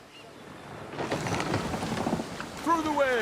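Ocean waves in the video game RUIN: after a quiet second a broad rushing surge of sea swells up and holds steady, with a brief high tonal cry near the end.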